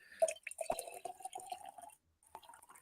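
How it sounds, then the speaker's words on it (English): Water is poured close by, a faint, gurgling trickle with scattered drips and small splashes that stops briefly and then resumes. "The sound of pouring water."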